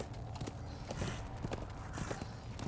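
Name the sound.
horse hooves while riding, from the video game Darksiders 2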